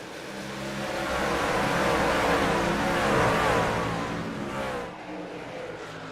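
Pack of racing trucks roaring as they accelerate at the green flag of a Venom Truck Series race at Atlanta, a loud sustained engine swell building for several seconds then easing off.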